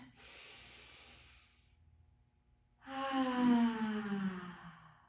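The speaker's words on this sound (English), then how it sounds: "Big breath in." A slow breath drawn in through the nose during a morning qigong session, a soft airy rush that fades to quiet, then a long, voiced sigh released close and clearly.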